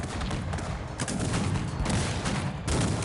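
Cannon and artillery fire in the real-time strategy game Cossacks 3, a dense continuous barrage of booms and crackling gunfire across the whole stretch, loud and close with no voices over it.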